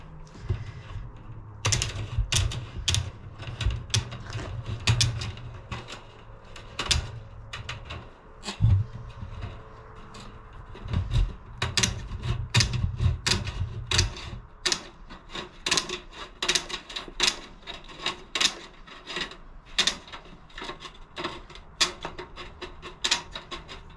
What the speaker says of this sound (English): I'm just gonna use some tin snips to do that